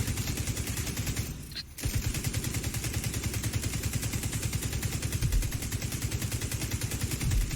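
Rapid enemy gunfire in The Division 2 rattles continuously at close range, dense volleys hammering on for most of the stretch with only a brief lull near the start.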